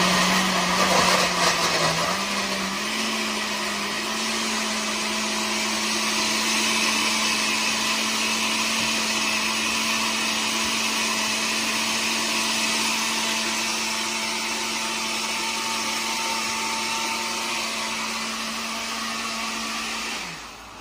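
A breakfast blender crushes and mixes half a cup of ice, a loud steady motor whir running continuously for about twenty seconds with a slight pitch rise early on before it cuts off at the end.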